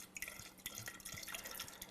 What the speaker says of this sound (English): And I hope that you can hear the beautiful gurgling